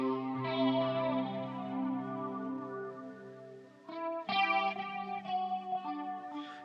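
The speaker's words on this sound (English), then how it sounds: "And then I can put a little echo on that." Gibson SG electric guitar played through chorus, phaser and echo: a long shimmering sustained chord fades slowly, then a few fresh plucked notes ring out with repeating echoes trailing them, clear and alone without talk.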